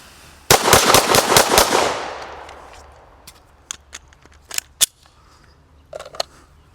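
A PSA Dagger pistol fed from a Glock factory magazine fires a rapid string of about seven loud, sharp shots in quick succession, with a trailing echo, then light clicks and handling knocks.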